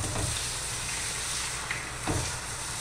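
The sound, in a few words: eggs being scrambled in a frying pan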